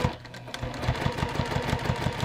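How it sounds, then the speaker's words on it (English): A sewing machine stitches down a fabric fold at stitch length 2, giving a steady, rapid, close mechanical chatter of evenly spaced stitches that runs without a break. "I'm stitching at stitch length 2."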